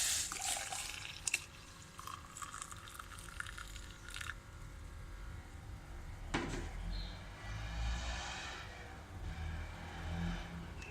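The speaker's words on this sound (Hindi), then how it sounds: "इसके अंदर हम दूध डाल देंगे।" Milk pours into hot black kahwa tea for Hyderabadi Irani chai as a quiet, close liquid trickle and splash, with a couple of light clinks of a vessel.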